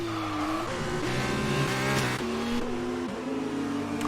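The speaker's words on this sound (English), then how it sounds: "That was Plebs there, locking up the inside fronts very slightly." Race car tires screech and lock up in F1 2019 on the Hungarian GP circuit, a loud engine whine rising and dropping through gears with squealing rubber under braking, continuous and close throughout.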